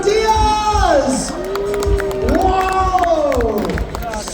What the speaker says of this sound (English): The Bradford crowd is cheering them home.